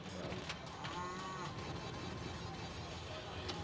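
A pinball machine plays a cow mooing sound effect during a world championship match, a low drawn-out moo heard faintly within the busy hall's ambience of machine noise and murmuring voices.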